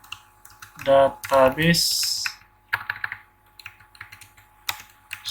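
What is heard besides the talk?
typing on a computer keyboard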